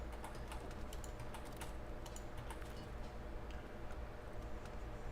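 Quick bursts of computer keyboard typing while playing Starfield, sharp key clicks bunched early and spreading out later over a steady low hum, no voices.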